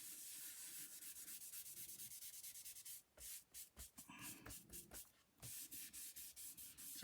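Soft, dry rubbing strokes as grease is worked onto paper on a greasy mat to make faux vellum, quiet and close, in repeated back-and-forth bursts with brief pauses.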